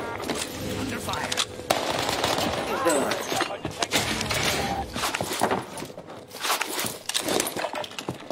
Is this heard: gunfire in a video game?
yes